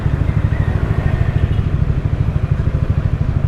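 Motorcycle engine idling or running steadily up close at a Yamaha dealer in Angeles City, Philippines, a loud, even low-pitched throb with rapid regular pulsing and no speech.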